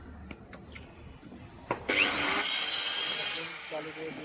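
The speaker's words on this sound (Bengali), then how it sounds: "এখন মেশিন দিয়ে কাটবে" A handheld power saw starts up after a few scattered knocks and then cuts steadily through wood with a loud, continuous grinding whine that lasts to the end.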